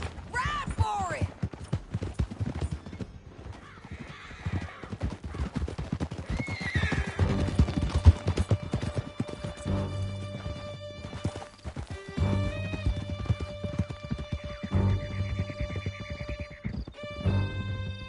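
Horses gallop in Red Dead Redemption 2 with rapid clip-clop hoofbeats and loud neighs and whinnies, mixed with shouting voices, crashes and game music during a fast escape through a canyon.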